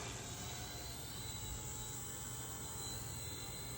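An Eachine E129 RC helicopter hovers close by while being brought down to land, its small motor and rotors producing a faint, steady high whine with a constant low buzz underneath.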